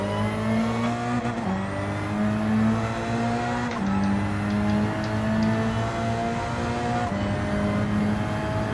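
A front-wheel-drive Hyundai Elantra race car engine drones steadily at high revs, close and loud from onboard, with brief dips at gear changes and a constant whine throughout.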